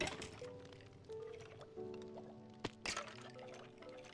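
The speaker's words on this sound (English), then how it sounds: "that water sound effect you can hear, that's the skeletons going up the water tower" Watery game sound effect of skeletons rising up a water tower in a skeleton farm, soft faint gurgles and drips in the background with a couple of sharper splashy clicks near the middle.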